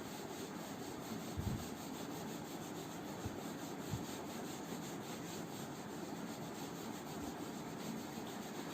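Someone rubs an eraser across a classroom board in a steady, scratchy scrubbing sound that carries on throughout, with a few soft knocks along the way.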